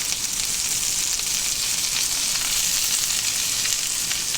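Green beans stir-fry in a hot wok with a loud, dense, continuous sizzle and crackle, steady from start to finish with no talking.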